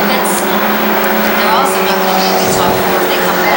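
Stock cars roar down the back straightaway at Thompson Speedway during weekly racing, a steady, dense engine drone with passing surges, heard under continuous race commentary.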